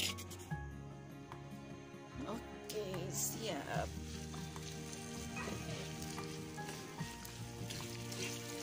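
Chili paste sizzles as it is stir-fried in a pan for Indonesian green chili smashed chicken, with a utensil scraping and stirring; a voice talks quietly over the cooking.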